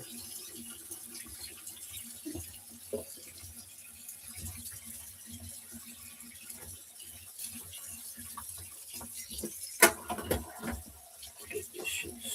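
Tap water runs into a kitchen sink while dishes are set to soak, a low steady trickle and splash with clinks of dishware and a sharp knock near the end.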